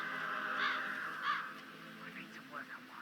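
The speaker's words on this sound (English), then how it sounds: "I'll never get rid of those stupid birds." Crows caw twice in the Hitman 3 video game, with harsh calls standing out over game ambience and a steady background hum, followed by softer chirps and a character's voice talking.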